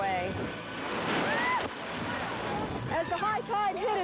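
High-tide ocean waves pound the pier and seawall along Ocean Boulevard in Palm Beach, a continuous roaring wash of surf mixed with gusting wind, close and loud throughout, with some talk faintly underneath.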